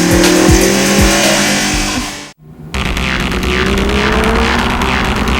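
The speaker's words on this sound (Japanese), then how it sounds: "So, how does the Gallardo handle on the circuit?" A Lamborghini Gallardo circuit lap: close, loud engine roar with tire squeal, a brief sudden dropout midway, then the car resumes at full, steady intensity.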